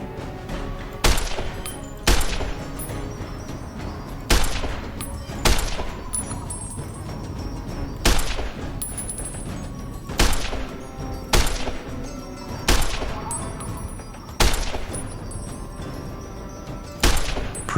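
Gunfire in Garry's Mod TTW, a game round set around a house, with sharp shots in irregular single and double bursts spread over several seconds, loud and close, without talking.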